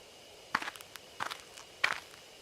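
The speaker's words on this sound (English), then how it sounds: "I hear footsteps again." Three distinct footsteps crunch through bushes in the game Spirit Hunter: Death Mark, spaced irregularly and fairly close, each a short rustling scuff over a quiet background.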